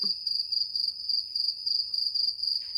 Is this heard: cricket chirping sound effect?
yes